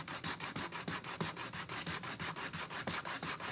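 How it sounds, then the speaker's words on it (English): Hand flat-sanding of painted surface with steady back-and-forth rubbing strokes, about five per second, close and even, with no voices. "so we're just gonna flat sand this"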